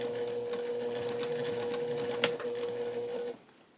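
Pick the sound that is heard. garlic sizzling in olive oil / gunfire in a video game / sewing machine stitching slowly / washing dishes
sewing machine stitching slowly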